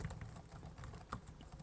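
Quiet typing on the keyboard of an Alienware X17 R2 gaming laptop: soft, rapid key taps in an uneven rhythm, heard close up and fairly faint.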